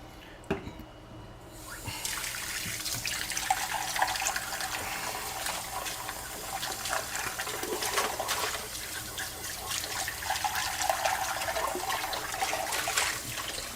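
Dishes are washed under a running sink tap, a steady hiss of flowing water with faint clinks and splashes throughout, fairly close and quiet, with no talking.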